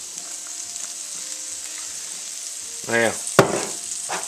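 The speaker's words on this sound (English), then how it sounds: "our peppers and onions is going to need just a little bit of oil, because they're looking dry" Peppers and onions sizzle in oil in a pan for a cheese steak sandwich, a steady bright hiss throughout, with a short burst of talk, a sharp clatter and a brief spoken word over the frying.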